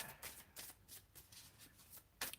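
Decks of playing cards being shuffled, a series of quiet riffling bursts in a fairly regular rhythm, soft and close with no talking.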